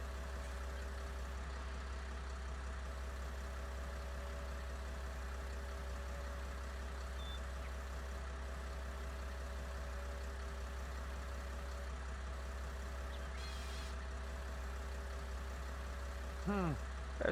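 Tractor engine idling steadily in Farming Simulator 19 on Grizzly Mountain, a low continuous drone held for the whole stretch, with a brief rising rev near the end.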